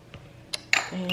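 A utensil clinks and scrapes against a bowl while mayo is stirred into a sushi cake mixture, with a few sharp taps and a soft lower hum near the end.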